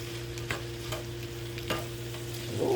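Seasonings being mixed in a bowl: a few soft scraping, clinking strokes of a spoon at irregular intervals over a steady low kitchen hum, fairly quiet and close.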